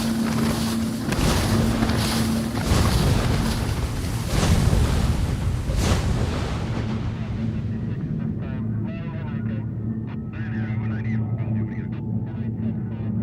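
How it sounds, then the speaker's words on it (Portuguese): A boat carrying stolen cars moves at sea, with engine rumble, wind and waves washing against the hull, loud at first and then thinning into softer water sounds. "Este barco, que transporta carros roubados"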